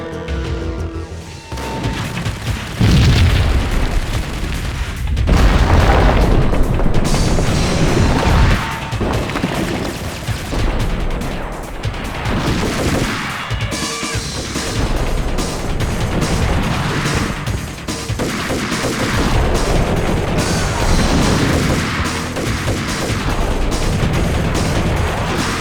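In the video game Max Payne, gunfire and explosions crash and boom almost without pause, heavy impacts and bursts of shooting layered over a loud, dense battle din.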